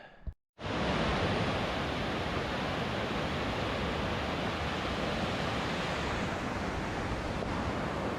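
A whitewater river near Kebnekaise, Sweden rushes in a dense, steady roar, loud and close, after a brief quieter moment at the start.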